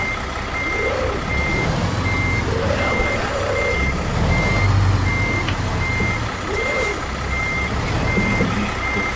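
Steady, evenly spaced reversing beeps from a truck backing a trailer in American Truck Simulator, sounding over a continuous low engine rumble.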